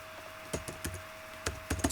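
Keys tapped on a computer keyboard while filling in an on-screen form, a handful of quick, soft clicks in two short bursts, fairly close over a faint steady hum.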